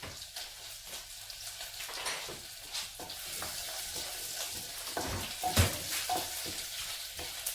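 Finely chopped ginger and garlic frying in a pan for shahi paneer gravy, a continuous bright sizzle with scraping stir strokes, steady and close.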